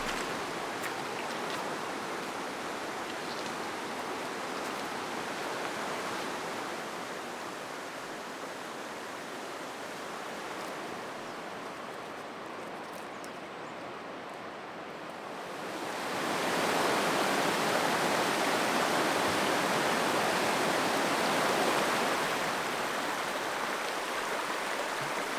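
A winter river running fast and murky past a riverside campsite, a steady broad rushing wash that swells louder partway through, continuous and enveloping with no voices.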